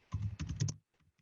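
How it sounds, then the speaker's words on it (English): A quick burst of keystrokes on a computer keyboard in an office, a handful of close, crisp taps in rapid succession, followed by a few fainter, scattered presses. "As I start typing"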